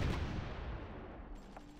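Artillery fire in a strategy war game near a harbour, a single booming shot that rolls off into a long decaying rumble, fairly loud with no talking.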